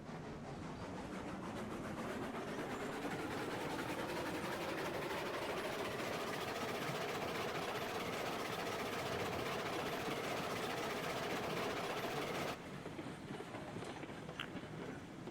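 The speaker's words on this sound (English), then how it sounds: "And I don't want to maneuver that locomotive" A locomotive running up close, a loud steady rumble with rising engine tones and rail noise that holds for about twelve seconds, then drops abruptly to a quieter hum.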